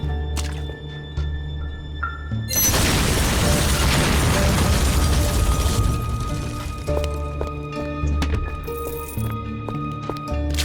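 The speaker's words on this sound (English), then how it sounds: "I'll turn it up to maximum, so the whole thing will explode" A large explosion in the action RPG Van Helsing: Final Cut erupts as a loud, dense rumbling burst lasting several seconds, then decays into scattered debris and mechanical clatter over a lingering game soundscape.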